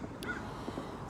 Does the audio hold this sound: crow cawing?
yes